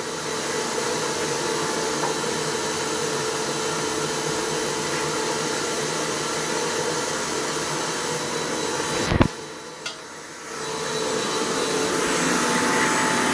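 A homemade hood-style cooling fan roars loudly and steadily like a vacuum cleaner, cutting out abruptly partway through, then spinning back up and building again.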